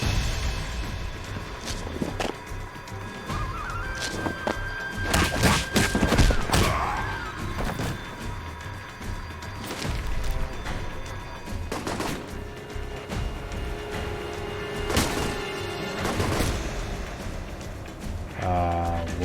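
Video game gunfire in a firefight in Rome against a terrorist cell: scattered shots and bursts ring out amid background noise, with thuds and occasional voices mixed in, moderately loud rather than dominant.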